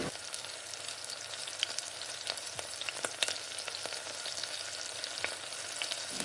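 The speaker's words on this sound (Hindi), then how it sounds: "हल्का सा हम इसे सौटे करेंगे, जलाना नहीं है।" Onions and whole spices sauté in a pot for a mutton stew, giving a steady close sizzle and crackle with occasional sharp pops and light stirring scrapes, no voices.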